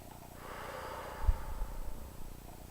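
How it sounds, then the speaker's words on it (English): A single slow, deep breath drawn in through the nose and released, close and soft, rising to a peak midway before easing out. "And take a deep breath."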